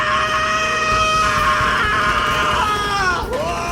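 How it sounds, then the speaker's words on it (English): A man's sudden loud scream in a sci-fi audio drama, sustained and piercing for several seconds before breaking off with a sharp sliding fall near the end. "The interior of the Zephyr exploded with the sudden scream of Gregor Roginski"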